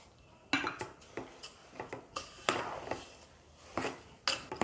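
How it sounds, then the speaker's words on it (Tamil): Spoon clinking and scraping against a pan while sugar is stirred into rava kesari, a South Indian semolina dessert, with a series of sharp, irregular metallic taps close by and no talking. "சர்க்கரை சேர்த்து நல்லா கிண்டிட்டுருங்க, கட்டியாகாத"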